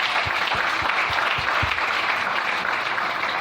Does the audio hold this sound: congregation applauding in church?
yes